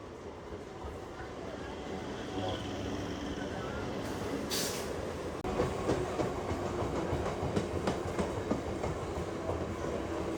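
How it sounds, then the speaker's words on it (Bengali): A Barrackpore local train pulls into platform 2 at Sodepur station, a loud continuous rumble with rattling wheels and a sharp hiss of air brakes, the clatter growing busier toward the end. "সোদপুর স্টেশনে 2 নম্বরে ঢুকলো হচ্ছে ব্যারাকপুর লোকাল"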